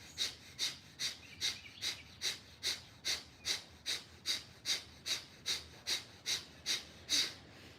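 Steady, close breathing during a held yoga backbend, arcing up from the ground: quick, even breaths repeating about twice a second, each a soft rushing puff, with no talking.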